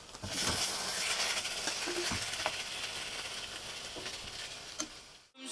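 Food sizzling and frying in a pan, a dense steady crackle and hiss lasting several seconds with occasional clicks of stirring, close and continuous before cutting off abruptly at the end.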